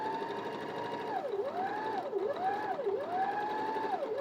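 A sewing machine stitches fabric with pins still in it, its motor whirring steadily while speed dips and recovers in repeated swoops, close and fairly loud with no voices.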